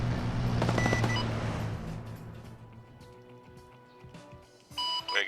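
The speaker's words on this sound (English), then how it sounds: "I can hear your Javelins firing off" Video game Javelin missile launches from an Ukraine volunteer forces operation: a loud burst of firing blasts early on, fading into quieter scattered reports and rumble, with another sharp burst near the end.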